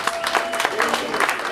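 A comedy roast audience at Wiseacres claps in a dense, close burst of applause, with some crowd voices mixed into the clapping.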